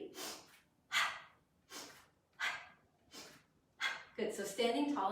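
Someone breathes in and out in rhythm during a short energizing home workout, six sharp, close, evenly spaced breaths about a second apart, with a brief burst of vocal sound at the end.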